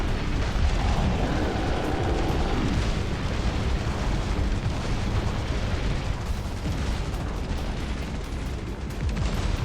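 Video game artillery blasts pound continuously, a dense roaring barrage of booms and explosions with a heavy low rumble and no clear gaps.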